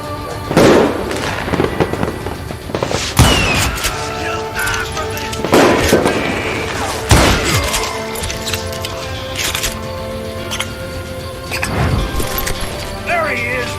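Gunfire from the Western shooter game Call of Juarez Gunslinger: several loud, sharp shots crack out at irregular intervals over a busy background of game sound, with a voice talking in between.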